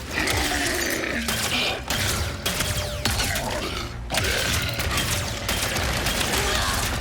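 A new weapon firing in Ratchet & Clank: Rift Apart, loud repeated blasts with mechanical clanks and whirring over a dense, constant wash of game effects.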